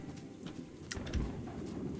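Soft cooing of a pearl bird in the video game Outward 2, faint and brief over steady game ambience, with a couple of light thuds.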